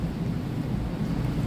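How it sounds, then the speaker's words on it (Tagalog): Deep, steady rumble of thunder rolling continuously during a storm, heavy low-end energy with a hiss of rain or wind over it, loud and sustained with no voices. "Dalugdog. Kulog."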